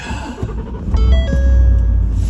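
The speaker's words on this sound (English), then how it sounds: "Let's fire up the truck" A truck engine cranks and catches, then settles into a loud, steady low rumble, heard up close with no talking.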